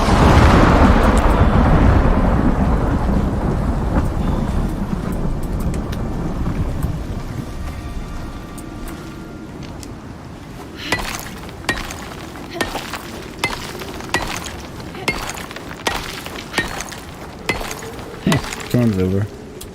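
Thunderstorm in the survival game ICARUS: a long rolling rumble of thunder with steady rain fading out, then a string of sharp cracks and thumps at the end.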